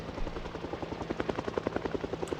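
A helicopter flies overhead during a helicopter event in the video game Project Zomboid, its rotor chopping in a fast, steady beat that grows slightly stronger, with no talking.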